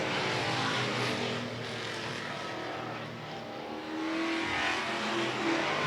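Race cars roaring down the backstretch of an open racetrack late in a race, a loud dense engine wash that swells and fades slightly as the field passes, with no talk.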